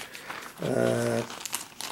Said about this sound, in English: And I'm going to put it in this plastic bag.